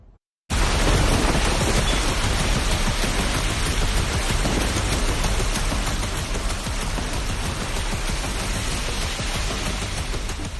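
Heavy monsoon rain with a thunderstorm over northern India: a loud, dense, unbroken roar of downpour that begins abruptly and holds steady, with deep rumbling mixed through the wash of noise.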